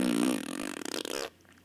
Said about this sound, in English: it's just one last little fart